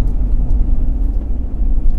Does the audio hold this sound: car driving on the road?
yes